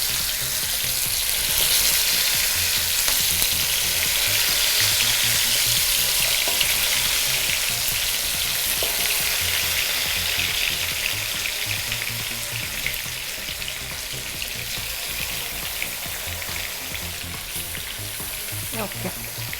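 Payyoli chicken fries in hot oil with a loud, continuous sizzle and crackle, close and unbroken for nearly twenty seconds, with no one talking.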